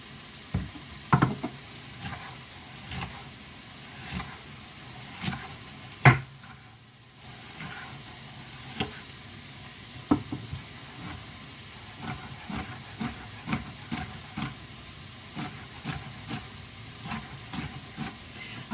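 Sweet red and yellow peppers frying in a pot for homestead bean soup, giving a low steady sizzle with scattered pops and clicks of a utensil throughout.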